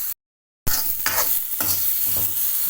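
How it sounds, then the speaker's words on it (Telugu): Washed coconut pieces sizzle in a pan with fried seasonings while a spoon scrapes and stirs them, close and steady after a brief silence. "ఇవన్నీ వేగిన తర్వాత మనము కడిగి పెట్టుకున్న కొబ్బరి ముక్కలను ఇందులో వేసుకోవాలి."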